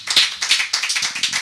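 A church congregation at a Wednesday intercession service claps together in quick, steady rhythm, a loud close burst of applause filling the short moment.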